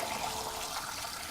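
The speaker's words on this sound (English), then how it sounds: "Fill up the glass." Water pours and splashes in a short, steady rush as a glass is filled to water a plant, close and continuous throughout.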